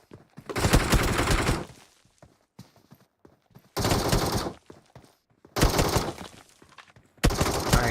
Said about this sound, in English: Definitely laying some shots down.